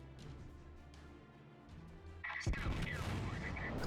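Naval gunfire from the battleship Tirpitz in World of Warships, with a heavy booming salvo that erupts midway after a low rumbling engine backdrop and leaves a rolling roar behind it.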